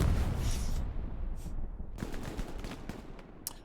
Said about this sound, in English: Artillery right into this chokehold.